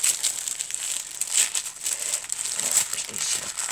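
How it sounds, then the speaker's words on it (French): Paper and wrapping being torn and crinkled open while unpacking a scrapbooking and junk journal swap parcel, a steady close rustling that runs through the whole stretch with a few sharper rips. "Je déchire toujours."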